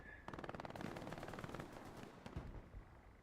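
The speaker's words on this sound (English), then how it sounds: "starting to draw some machine gun fire" Sustained bursts of machine gun fire in the Hell Let Loose battlefield, rapid rattling volleys overlapping with other gunshots, loud and dense for several seconds with faint background voices.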